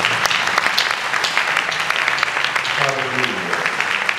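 Church congregation at a conference applauding and cheering for the Lord, a dense steady wash of clapping and shouts across the whole stretch, with a voice calling out over it.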